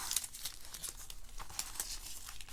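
Masking tape peeling slowly off watercolor paper, a continuous crackling, crinkling tear with sharp little pops throughout, close and fairly quiet, with no voices.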